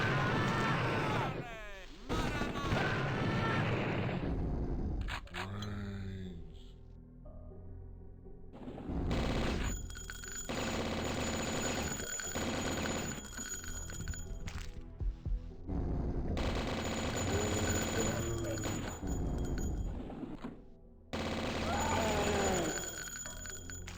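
Repeated bursts of gunfire in the video game Blood: Fresh Supply, loud rapid shots and blasts with game music and effects, while someone talks over much of it.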